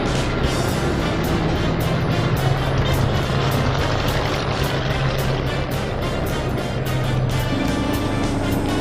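Several 1948 Indianapolis 500 race cars, including the Bennett Brothers Special and the Novi, run on the track with a continuous loud engine drone that shifts in pitch as the cars move in and out.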